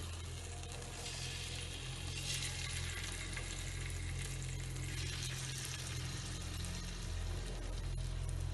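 Pieces of chicken steak laid into a hot pan sizzle and fry steadily, a dense continuous crackle with a low hum beneath, close and even throughout, with no one speaking.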